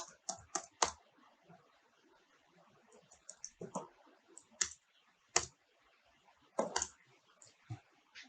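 Computer keyboard keys tapped for shortcuts during digital painting of a human eye: scattered sharp clicks in small bursts with long quiet gaps, close and crisp, with occasional mouse clicks.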